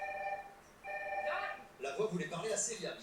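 A red telephone rings with two steady electronic tone bursts, followed by voices talking over the room.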